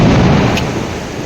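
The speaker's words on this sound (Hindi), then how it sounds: "देख कितना बुरा तूफान आ रहा, बहुत केड़ा तूफान है" Thunder during a violent night storm over a village: a loud, continuous rumbling roar that fills the whole stretch, heavy in the low end, with no voices.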